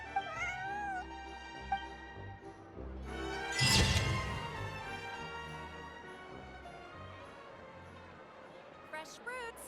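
Bonnie the cat meows in Genshin Impact, a few rising, tonal mews at the start and end, with a loud crash and swoosh in between over soft background music.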